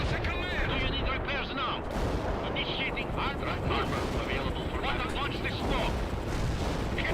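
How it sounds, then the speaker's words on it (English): Anti-aircraft guns in the video game World in Conflict fire continuously in a dense, sustained barrage of rapid bursts and booms that runs throughout, with other battle noise layered in. "Those AA are fucking insane. They can just like continuously fire."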